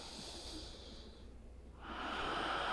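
Steady breaths during a morning yoga core session, a long soft airy exhale that fades and then swells into a louder, breathy inhale, close and alone with no talking.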